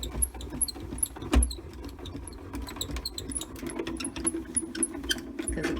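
Spellbinders die-cutting machine cranked steadily as plates roll through, a continuous low grinding rumble with scattered ticks and clicks, close and unbroken.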